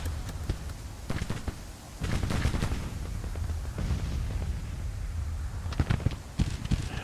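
Artillery counter-battery fire in the Grand Tactician Civil War strategy game, Winter 1862 Kentucky campaign: scattered booming cannon reports and crackling volleys, some clustered and some isolated, over a steady battlefield rumble.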